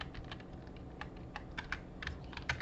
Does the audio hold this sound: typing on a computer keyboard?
yes